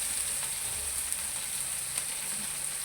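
Okra and onions fry in a pan with a constant close hiss of sizzling oil, broken by a few soft clicks of stirring.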